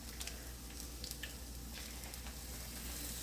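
Salmon patties frying in a pan, a soft steady sizzle with faint crackles and pops, quiet and close, no one talking.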